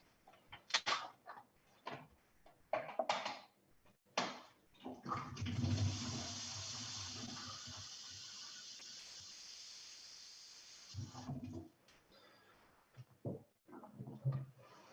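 Tap water running into a basin, a sustained rushing stream that lasts several seconds mid-clip, framed by clunks and bumps before and after, with no talking.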